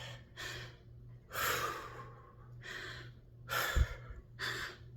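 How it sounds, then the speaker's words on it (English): Heavy breathing after a workout, a series of deep, audible inhales and exhales in an uneven rhythm, close and fairly loud, with a soft huffing snort near the end and no talk. "Let me catch my breath."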